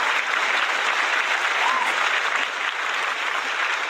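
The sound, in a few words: applause sound effect for the champion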